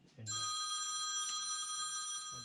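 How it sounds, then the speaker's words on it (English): A telephone rings in a workshop with a bright, steady electronic bell tone, one continuous ring held for about two seconds, fairly faint and alone after a brief knock at the start. "as I was putting this sticker up, the phone rang"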